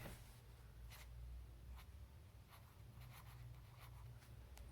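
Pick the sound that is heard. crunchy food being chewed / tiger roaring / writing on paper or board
writing on paper or board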